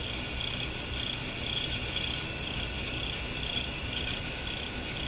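A steady high cricket-like trill coming through a Sonora RQU-222 six-tube tube radio on its loop antenna, continuous and pulsing slightly over a bed of static hiss, with no talking.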